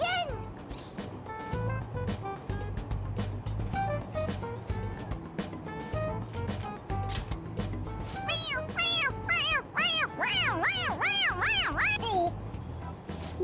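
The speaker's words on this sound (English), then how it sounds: "It meows when you press on its head." A toy cat in the game Persona 5 Royal meows when pressed on the head, repeated bright meows rising and falling near the end over game music, with talking throughout.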